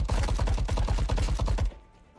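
Rapid automatic gunfire in the VR shooter Frost Point VR: Proving Grounds, a steady burst of about twenty evenly spaced shots lasting most of the moment, then a sudden stop into quiet room tone.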